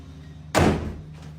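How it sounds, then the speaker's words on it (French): A nearby door is pushed shut with a single solid slam, a short loud thud that decays quickly, followed by a faint soft knock from the latch settling in an otherwise quiet room. "Laissez-moi fermer la porte à côté."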